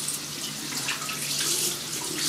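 Tap water running steadily over a Rockwell 6C safety razor as it is rinsed at a sink, a close continuous splashing stream with no talk.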